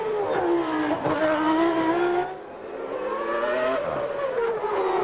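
Ayrton Senna's Formula 1 car on a qualifying lap at Adelaide, 1990: a loud, screaming engine climbing through the gears, dropping briefly on a downshift, then rising again, with no talk over it.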